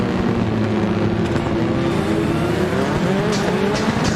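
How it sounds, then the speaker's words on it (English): Rallycross race cars crawl around a circuit at low speed in single file to set the grid for a final. Their engines drone steadily and loudly, with passing and revving tones layered on top. "the guys running around at 60 k's an hour in single file to set the grid for the final"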